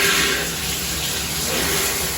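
Water runs steadily for a quick rinse, a close, even hissing rush that carries on without a break.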